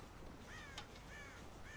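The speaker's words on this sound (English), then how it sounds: "God damn crows!" Crows caw several times in the video game Red Dead Redemption, a few harsh calls in quick succession over a steady ambient outdoor wash, moderately distant.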